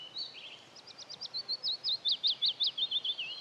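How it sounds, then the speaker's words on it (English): Willow warbler singing its song of quick, bright notes that slide down the scale, a steady run of about a dozen clear phrases carried over faint background hiss. "Willow warbler. Descending note."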